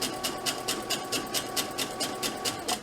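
A sewing machine stitches fabric for a mask, a steady fast mechanical chatter with even rhythmic pulses, close and moderately loud, with no talking.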